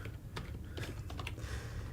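Computer keyboard typing as quick, irregular light clicks over a steady low background hum, close and fairly quiet, with no speech.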